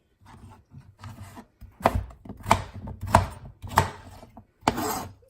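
Knife chopping garlic on a cutting board for a soup, a series of sharp, fairly close chops at an uneven, steady pace with short pauses between strokes and no voices over them.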